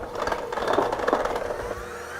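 A hand mixer beats rainbow cake batter in a bowl, whirring in a fluctuating, slightly rattling drone that swells and eases, then drops to a quieter hum at the end.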